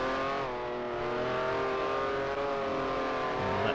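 A race car engine in a sim racing game revs hard as the rear tyres spin up, a sustained buzzing engine note that climbs slightly in pitch and stays fairly quiet.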